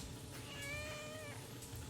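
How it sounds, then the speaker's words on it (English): A cat meows once, a drawn-out mid-length call heard fairly close over low room noise, with no talking. "There's a kitty."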